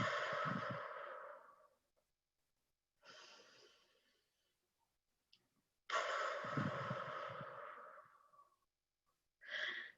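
Deliberate, forceful exhaling breaths in a guided breathing exercise, four puffs separated by silence, the first and third long and strong, the others shorter, close and alone without talking.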